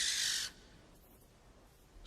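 A barn owl gives a single harsh, hissing screech, loud and close for about half a second, followed by near silence.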